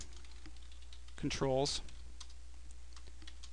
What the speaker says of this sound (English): That can be done by simply typing group, a name for the group, we'll call it foot